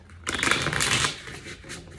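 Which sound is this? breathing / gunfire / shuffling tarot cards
shuffling tarot cards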